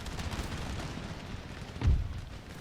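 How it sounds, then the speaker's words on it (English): A howitzer artillery piece in Empire: Total War fires one deep boom near the end, rising out of a low rumbling battle backdrop. "are the howitzers even firing?"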